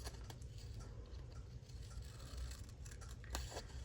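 Scissors snip through a paper journal sticker, making a run of close, crisp cutting clicks and rustles against a quiet room.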